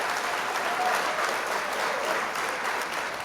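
Steady, dense applause from a crowd fills the whole stretch at an even, fairly loud level, with no voices standing out above the clapping.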